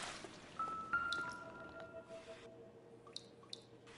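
Water drips from a leak near something frozen, each sparse drop landing separately with a clear ringing plink, irregularly spaced over a quiet background.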